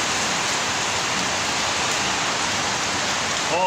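Steady rain falling in a TV show scene, an even, unbroken hiss that holds the same level throughout, with no voices over it.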